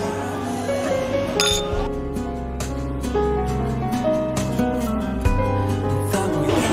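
Glasses clink together in a toast, bright ringing pings over a steady bed of background music, with no talk.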